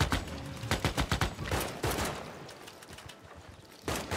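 Rapid bursts of Civilization VI unit gunfire crackle loudly in quick volleys, then thin out into a lingering rumble before one more sharp burst near the end.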